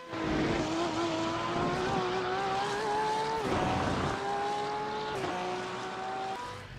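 GT3 race car engines roar in a sim racing game, a loud steady high-revving drone with rising pitch and sharp shift drops, close and continuous with no talk.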